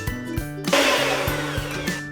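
An electric mixer beats caster sugar into lemon drizzle cake batter that already holds lemon juice and zest, with a steady close motor whir and a few knocking bumps of the beaters against the bowl.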